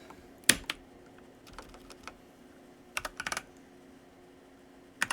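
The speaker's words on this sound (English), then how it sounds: "I can't look down at my keyboard while typing, or else I can't type." Bursts of typing on a computer keyboard, close and fairly quiet: a few quick key clusters separated by pauses, with a faint steady hum underneath and no voices.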